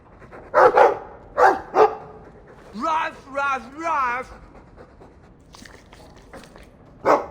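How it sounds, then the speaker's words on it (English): A dog in the video game Dragon Age 2 barks several sharp, close times, three in quick succession and one more near the end, while a voice speaks in the middle. "I like the doggy."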